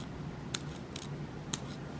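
A Samurai single bevel broadhead blade slicing a sheet of paper, a few short crisp cutting snicks spaced about a second apart, close and clear over quiet background noise, with no talking.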